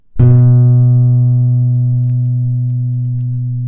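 A single plucked open A string on a guitar rings out loudly and sustains, slowly fading with no other sounds.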